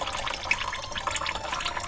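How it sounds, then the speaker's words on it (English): Engine oil trickles and drips from the open drain plug of a 2004 Honda Odyssey oil pan, a steady close liquid stream with small splashy drips, no talking. "I like to break it loose, let most of the oil out"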